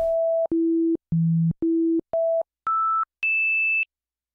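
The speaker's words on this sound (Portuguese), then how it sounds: "tô tocando um Mi. E aí eu posso tocar ele em diferentes oitavas, tocar ele mais alto" A single musical note E sounded as a series of clean sustained tones, each separated by a brief gap, stepping down from a mid pitch to a low one and then climbing through higher octaves to a bright high tone, with no voices.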